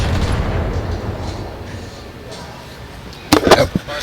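Weapon fire from mechs in the video game Battletech: a low rumbling barrage followed by a couple of sharp, bright impact bursts near the end, with voices talking over the game.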